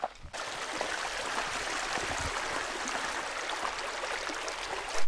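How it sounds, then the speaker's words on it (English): A person urinating in the woods makes a continuous splashing trickle that runs steadily for about five seconds, close and fairly loud, with a brief rustle at the start and at the end. "I just peed in the woods."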